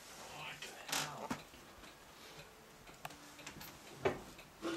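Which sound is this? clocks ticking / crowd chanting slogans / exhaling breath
clocks ticking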